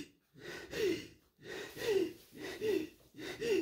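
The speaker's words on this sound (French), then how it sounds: "ma respiration s'accélère à nouveau et je panique" A woman on the verge of an anxiety attack breathes fast and ragged, sharp gasping inhales coming in four uneven bursts, close and fairly loud with no talk.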